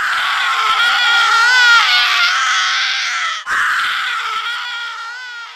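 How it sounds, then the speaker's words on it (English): A cursed scroll in an audio story lets out a loud, piercing shriek like many women's and infants' voices merged, a wavering wail that breaks briefly and resumes, slowly fading. "A scream pierced the night from the cursed object. It shrieked with the voice of 100 women and infants merged into one."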